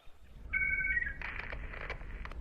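Telephone ringing with an incoming call: a steady two-tone electronic ring sounds clearly for about half a second, then shifts into a brighter warbling ring with background noise beneath it.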